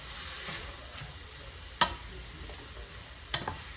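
Chicken fajitas sizzle steadily in a pan after a touch of chicken stock is added, with a couple of sharp utensil clicks against the pan over the constant hiss.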